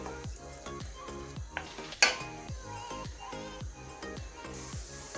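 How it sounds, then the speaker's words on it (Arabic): Onions and peppers fry in a pan while a spatula stirs them, giving a steady sizzle under rhythmic scraping strokes and one sharp metallic clink. "من بعد ما شحرنا البصله والفلفله ديالتنا"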